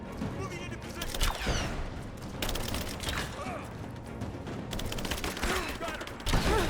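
Gunfire in Rise of the Tomb Raider, a dense, steady fusillade of overlapping shots with mechanical clatter and a few louder bursts, running alongside shouted voices.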